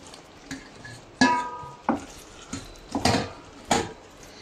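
Fried cashews and mushrooms tipped into curry paste in a pan, heard as several sharp metallic clinks and scrapes of a utensil against the pan at irregular intervals, close and fairly loud, with no speech.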